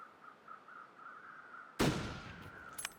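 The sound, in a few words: distant rifle gunshot in video game The Long Dark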